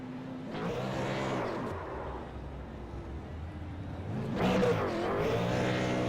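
A race car roars down the front stretch of the mini mile at a SARA Pierce Fleet Super Series night race, engine rising and falling as it revs through the gears, then surging loud again as it accelerates, close and continuous.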